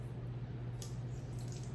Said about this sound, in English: we'll put just a little bit of lemon juice in here